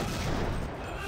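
Rapid burst of machine gun fire in the Deus Ex video game, loud dense crackling shots packed together over about a second.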